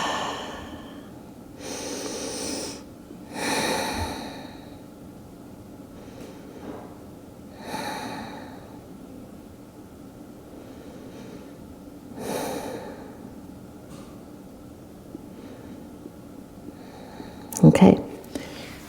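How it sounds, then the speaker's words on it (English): Slow, deep breathing during a yoga pose: several long airy inhales and exhales spaced a few seconds apart, soft and close, with quiet room tone in between. "settle in for a breath"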